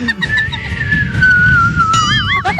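A single high, thin vocal whistle-register tone glides slowly downward, then breaks into a wavering vibrato near the end, sung close and fairly loud with no talk.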